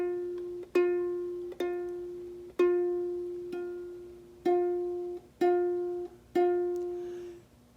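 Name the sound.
ukulele note, first fret of the E string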